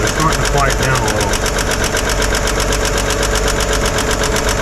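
A 1955 Chevy engine idles steadily with a rhythmic ticking and knocking from a noisy bottom end, loud and close, with talk over it.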